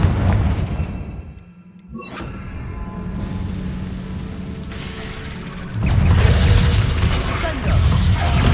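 Confringo fire spell blasts in Hogwarts Legacy, with booming bursts set against continuous game effects and mechanical rumble, louder toward the end as other spell impacts follow.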